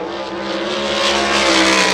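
Race car engine howling steadily on a qualifying lap at the speedway, a loud sustained whine building slightly as the car passes near.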